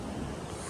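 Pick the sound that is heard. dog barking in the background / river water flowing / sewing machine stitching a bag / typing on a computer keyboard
river water flowing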